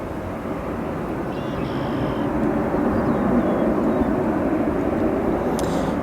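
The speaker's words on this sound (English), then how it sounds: "This departure on your screen right now heading to Miami, a Boeing 737 MAX 9." A Boeing 737 MAX 9 jet departs Chicago's O'Hare International Airport, its engines forming a steady broad roar that swells slightly and holds, heard from a distance with no talk.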